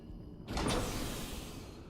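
A sci-fi door in the video game Quake 4 slides open with a sudden whooshing hiss that starts partway in and then settles into a steady mechanical hum.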